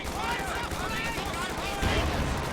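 Company of Heroes 2 battle gunfire crackles in dense, rapid bursts throughout, with a voice talking over the shots.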